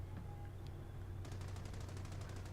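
Machine gun fire in a war video game, a rapid, even burst of sharp shots starting midway over a low engine drone, fairly loud and close, with a few isolated clicks before it.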